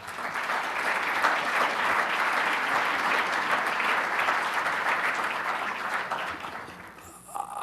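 A conference audience at the Tech Valley Summit applauds steadily to welcome speaker Dr. Glenn McGee, a full, close wash of clapping that holds evenly for several seconds before tapering off at the end.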